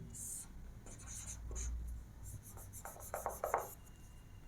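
A teacher writes on a board during a Hindi literature class, making a series of short scratchy strokes that quicken into rapid bursts toward the end, with faint room noise beneath.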